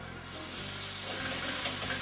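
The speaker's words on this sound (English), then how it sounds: "I'm gonna start frying the peppers." Peppers fry on low heat in a pan with olive oil and butter, giving a steady, soft hiss and sizzle that stays close and fairly quiet throughout, with no talk.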